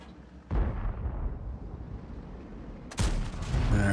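Tank cannon shots in a tank video game, two heavy booming blasts a few seconds apart over a constant low engine rumble, loud and close.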